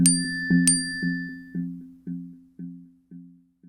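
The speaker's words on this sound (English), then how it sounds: "They're getting a barrage of notifications from the apps on their phones, flashing and vibrating almost constantly" Phone app notification alerts: a repeated two-tone chime pulsing about twice a second, each ping fading before the next, with a brighter bell-like ding at the start, clear and close with no talking.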